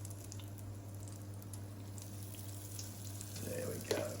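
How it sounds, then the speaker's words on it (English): Sweetcorn fritter batter quenelles frying in oil, a faint steady sizzle under a constant low hum, with a few brief louder crackles and spits near the end. "we're just going to make some really nice little quenelles that we can put into the oil"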